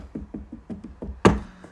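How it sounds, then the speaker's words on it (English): Knuckles rap on wood in a quick run of about seven light, evenly spaced knocks, then one louder, sharper thump, all close and clear with no talk. "Knock on wood."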